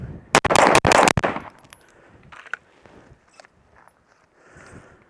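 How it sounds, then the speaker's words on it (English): A Race City Defense RC9 pistol fires a fast string of sharp, loud shots at 7 yards on an outdoor range, bunched together early, followed by faint clinks and rustling. "fire 5 rounds, 4-second par time"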